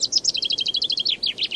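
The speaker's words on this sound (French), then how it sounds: "nous pouvons entendre un grand nombre de chants d'oiseaux, comme celui des mésanges et des pinsons" Small garden songbirds such as tits and chaffinches sing close by in a rapid series of bright, high chirping notes, a steady trill lasting under two seconds over faint background hiss.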